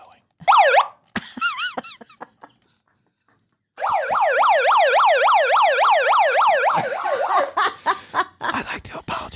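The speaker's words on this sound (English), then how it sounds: "I'd like to apologize for the siren" A warbling emergency siren whoops in short bursts, breaks off into silence, then returns as a loud, sustained rising-and-falling wail before breaking up into choppy fragments.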